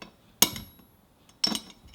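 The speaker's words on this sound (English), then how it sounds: "My idea is to bend it with a hammer so it's more cup-shaped" Two sharp metallic strikes of a hammer on a long metal spoon being bent into a cup shape, each a bright ringing clang followed by a short rattle, spaced about a second apart in a quiet room.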